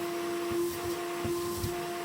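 A hoover runs steadily with a constant tonal motor whine while vacuuming dust around a Franco Belge wood burner, with faint bumps of the nozzle underneath.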